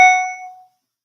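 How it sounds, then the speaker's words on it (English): A single bright live stream notification chime rings out once, loud and clear, then decays smoothly to silence within about two thirds of a second. "I just got a notification for my own live stream."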